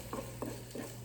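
Chopped onion cooking in olive oil in a warm pan, three soft stirring scrapes in an even rhythm over a faint, steady sizzle.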